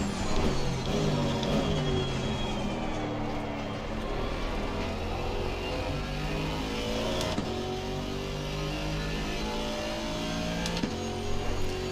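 Several GT3 race cars from Assetto Corsa Competizione run together at the Red Bull Ring, led by a Maserati ahead of a Porsche. Layered engine notes rise and fall through gear changes without a break, loud and steady throughout.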